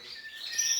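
Domestic canaries in a breeder's aviary, bright high chirps and a thin warbling trill, soft and brief, with no other sounds.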